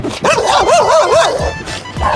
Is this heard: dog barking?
yes